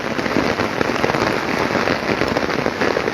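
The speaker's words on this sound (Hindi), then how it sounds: "और अब क्योंकि बहुत तेज़ बारिश हो रही है" Heavy rain pours steadily in Shimla during a landslide-hit downpour, a dense, loud, continuous hiss of drops drumming on surfaces with no voices.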